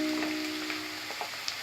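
Raw mango pieces sauté in hot oil for a pickle, giving a steady soft sizzle and faint crackle throughout, with no voices.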